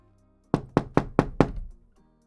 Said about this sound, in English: I got a knock on the door